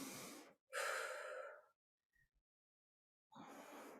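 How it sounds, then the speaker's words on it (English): Deep breaths during a Pilates mat workout, two long airy exhales separated by a short gap, then a third breath after a silence, close and clear with no talking. "Full breathing."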